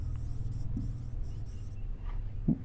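Pen writing on paper, a steady close scratching with short strokes over a low constant rumble, plus a couple of soft taps, no talk.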